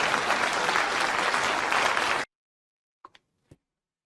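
A CPAC audience claps loudly and steadily for about two seconds, then the applause cuts off abruptly, leaving near silence broken by a couple of faint knocks.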